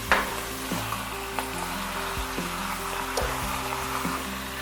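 Corn-fed poularde meat frying in a wok with garlic and ginger for a Chinese stew, a steady close sizzle with soft stirring scrapes, overlaid by a low tonal hum from the stove or kitchen.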